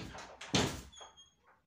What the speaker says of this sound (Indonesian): mendengar sebuah pintu dibuka tepat di hadapanku